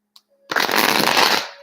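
A deck of cards being shuffled up close, a dense continuous riffling rush lasting about a second after a brief tick and a moment of quiet.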